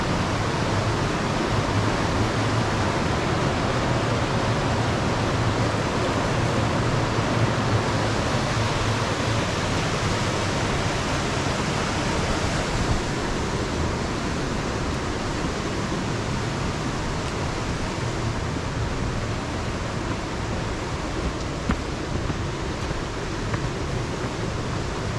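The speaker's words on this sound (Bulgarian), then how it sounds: "Реката красива." A river near Kostenets rushes steadily in a continuous, broadband roar, loud and close throughout with no breaks or voices.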